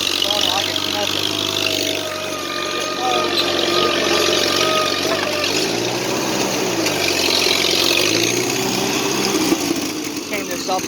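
A Farmall C tractor engine in third gear at a little throttle drones steadily while pulling an Oliver 2-12 Plowmaster 100 plow, close by and continuous, with someone talking over it.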